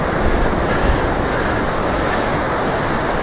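Ocean waves rolling onto a surf beach, a loud, continuous broadband wash of breaking water mixed with wind noise, with no voices.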